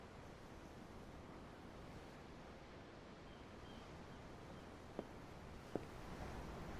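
Ocean waves in the Tales of Arise video game wash in a steady, soft surf hiss, with a couple of faint clicks near the end.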